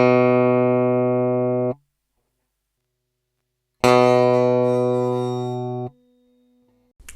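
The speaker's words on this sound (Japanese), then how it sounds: "普通のフレットを指で押さえた時と普通のフレットがすり減った時の音の違いを聞いてみましょう" Two sustained electric guitar notes alone, the first fretted on a normal fret and the second on a worn normal fret. The second rings brighter with added fret buzz rattling over the tone before being cut off.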